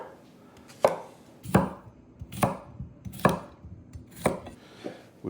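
A knife roughly chopping English cucumbers in a home kitchen, with about six sharp, evenly spaced cuts ringing against a cutting board, close and clear with no talking.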